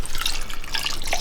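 Coconut cream pouring into a pot of vegan curry, a steady liquid splash and trickle lasting about a second, close and fairly clear with no talk.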